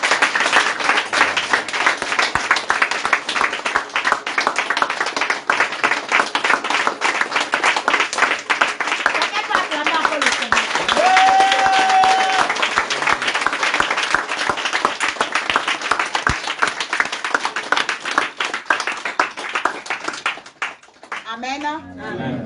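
A church congregation applauds to acclaim the Lord, a loud, sustained burst of dense clapping lasting many seconds with voices calling out underneath, fading near the end.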